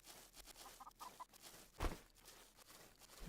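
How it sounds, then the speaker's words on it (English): A chicken in the medieval survival game Nested Lands gives a few short clucks, quiet and fairly distant over faint ambient background, followed by one louder thud. "Chicken."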